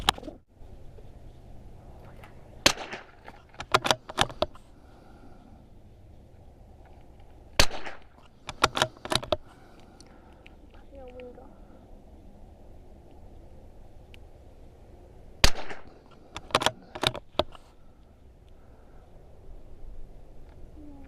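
CZ457 rifle with an EC Tuner fired in tight groups of two to three sharp shots, with longer pauses between groups against a steady low outdoor hum.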